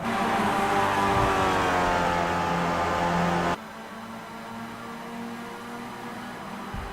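Racing cars in a video game race at Sebring pull into the pit lane, a loud sustained engine roar that cuts off abruptly and leaves a quieter mechanical drone.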